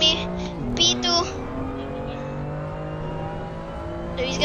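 GT4 race car engine in a racing video game at the Hungaroring, a continuous droning engine tone with shifting pitch while closing to lap a BMW M2, under brief bursts of voice.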